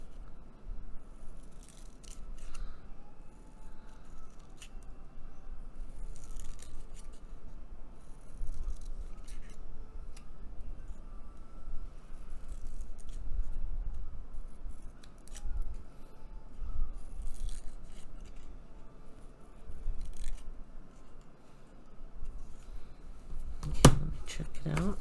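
Small scissors snip paper to trim the hair of an origami geisha figure on an altered paperclip bookmark, giving quiet intermittent snips and paper rustles spread across the stretch, with soft handling noise and low background hum.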